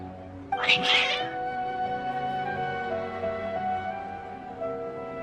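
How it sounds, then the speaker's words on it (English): Agitated cats in a video game let out a loud, sudden caterwaul about half a second in, a strained meow lasting under a second, then a steady tonal game-music background carries on alone. "Your cats seem pretty worked up."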